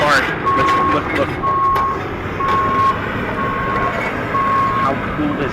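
A garbage truck's reversing alarm beeps in a steady repeating pattern, about five evenly spaced tones, over a constant engine rumble while trash is unloaded; voices can be heard faintly underneath.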